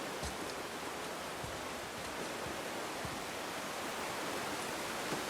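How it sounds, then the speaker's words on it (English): A waterfall in the video game God of War rushes as a steady, dense broadband roar, loud and unbroken throughout, with no voices over it. "the waterfall is drowning out the sound"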